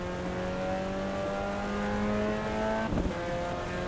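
A race car engine in a PC racing game, revving hard out of a chicane: a loud, sustained, high-pitched engine drone with steady tone and a brief shift near the end.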